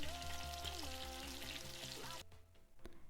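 Osso bucco meat sears in a Cookeo multicooker, a steady close sizzle under other clattering sounds that cuts off abruptly partway, leaving faint background noise and a brief clunk.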